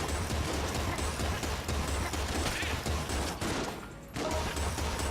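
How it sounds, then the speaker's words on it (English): A battery gun fires continuously in the video game Enter the Gungeon, a dense, rapid crackling barrage with a pulsing low hum underneath and a brief lull near the end. "We'll switch over to the battery gun."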